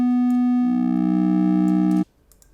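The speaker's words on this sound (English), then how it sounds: "both of them are modulating the amplitude or the volume of the oscillator A with the shape of the oscillator B" A steady synthesizer tone from an Xfer Serum oscillator whose amplitude is modulated by a second oscillator's shape, holding a bright harmonic buzz for about two seconds before cutting off abruptly.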